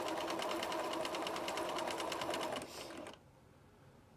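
A sewing machine runs a steady rapid stitch along a quarter-inch quilt seam, loud and close, then slows and stops near the end.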